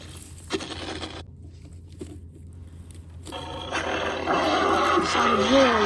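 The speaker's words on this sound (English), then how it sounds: "Sawtooth roars at Slicer." The dinosaur Sawtooth roars at Slicer: a harsh, loud burst, a pause, then a longer roar that builds and grows louder toward the end.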